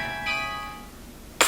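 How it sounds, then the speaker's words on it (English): Carillon bells tuned with a prominent minor third ring out together, undamped so the tones overlap and decay, before a fresh bright strike lands at the very end. "attributes of the carillon, of the minor third carillon, is in fact that minor third"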